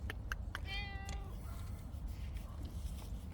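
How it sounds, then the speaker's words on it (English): A cat meows once, a clear drawn-out call close by, heard alone over a low background rumble with faint clicks around it. "I haven't seen this cat for quite a long time, over a year."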